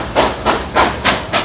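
Steam hisses in rhythmic bursts in the Tower Bridge steam engine room, five loud, evenly spaced puffs about every third of a second, close and unaccompanied by voices.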